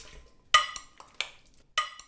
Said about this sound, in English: I'm just ladling all the chopped tomatoes, onions, and peppers into the blender